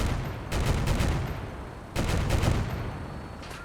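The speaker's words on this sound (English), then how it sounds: "Let's introduce them to the heavy bolter as well." A heavy bolter fires in modded Fallout 4, two sustained bursts of rapid, dense, booming gunfire, loud and harsh, with a short gap between them.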